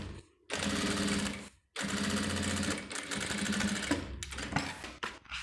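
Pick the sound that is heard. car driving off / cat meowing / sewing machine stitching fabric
sewing machine stitching fabric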